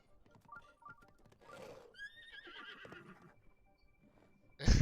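A synthetic-sounding horse whinny in The Legend of Zelda: Breath of the Wild rises and trails off over quiet background noise, ending in a sudden loud thump.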